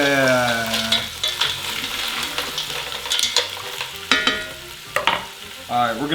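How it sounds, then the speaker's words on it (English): Mussels tossed into a hot pan for a garlic and white wine sauce give a loud burst of clattering shell clacks, then sharp intermittent clicks over steady sizzling and stirring, close by. "We're gonna toss in the mussels. Oh, that clacking is so satisfying."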